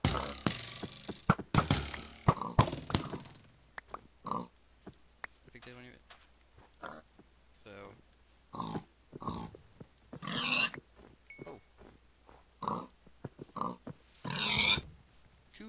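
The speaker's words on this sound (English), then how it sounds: "Kill a pig." Pig grunts and oinks from Minecraft's Tekkit modpack survival game, several short squeals scattered through a stretch of game sounds and mechanical clicks while a player talks over them.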